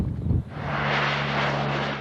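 Search aircraft flying overhead on a sea rescue mission send out a steady, droning engine roar that swells in after a short muffled thump and holds loud throughout, with no talking.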